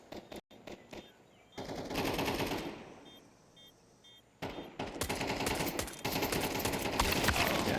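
Rapid automatic gunfire in Counter-Strike 2 during a competitive esports match, bursts of dense shots that thin out mid-clip and return loud and sustained toward the end.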